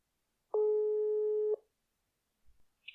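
A single steady tone of about one second sounds clearly on a phone line as a call is being placed, followed by silence and a couple of faint clicks.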